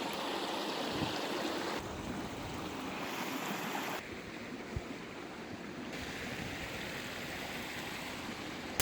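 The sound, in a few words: shallow river flowing near a handmade log bridge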